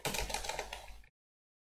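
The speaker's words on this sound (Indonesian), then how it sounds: "aku bakal ngetik sepatu di sini" A quick run of keystrokes on a computer keyboard as a short word is typed, close and crisp, lasting about a second before stopping abruptly into silence.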